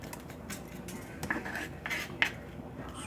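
Knife slicing through vegetables and peppers on a board, a few soft crisp cuts with light clinks of cutlery and dishes nearby, quiet and close with no talking.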